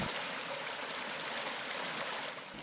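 River water rushing steadily in Colombia, a broad continuous close hiss of flowing water with no pauses and no voices.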